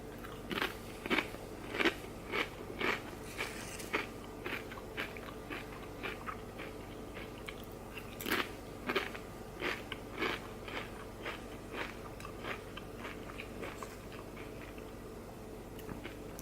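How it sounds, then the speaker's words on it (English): Doritos Buffalo tortilla chips are bitten and crunched up close in a run of sharp, crackly bites and chewing bursts, irregular and loud against a quiet background. "Sorry for that traditional Doritos crunch."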